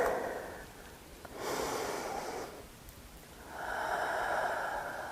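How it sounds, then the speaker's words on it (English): Slow, deep breaths during a yoga pose, close and soft, with long airy inhales and exhales alternating and no talk. "Just pause here for a few breaths."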